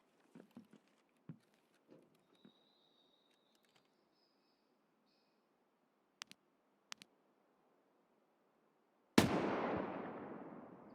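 A mounted gun in a video game lets off a single loud, sharp blast with a long decaying tail, preceded by scattered faint clicks and taps.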